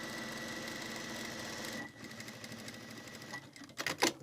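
A sewing machine runs a 1 cm seam along an overlocked edge of fabric for a wallet pouch, whirring steadily for about two seconds, then stops, followed by quieter fabric handling and a few sharp rustles.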